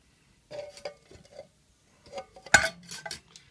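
Small clean plastic pieces drop into a metal tin with light scattered clinks and rattles, a sharper clatter in the middle, quiet and close with silence between.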